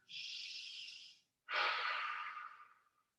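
Two long, deep breaths, a drawn-out exhale followed by a fuller one, taken while holding a yoga forward fold in a whole-body strengthening session; close and soft, with quiet between them and no talking.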